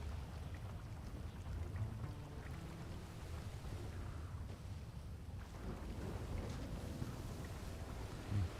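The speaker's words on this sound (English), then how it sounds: "Tropical storm here." Steady rain and rumbling thunder from a tropical storm on Cayo Perico in GTA Online, a continuous low, dense wash of rainfall with deep rolling rumbles, no voices.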